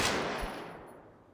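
Gun fires in the VR shooter Zero Caliber: Reloaded, one sharp loud blast that rings and fades out over about a second.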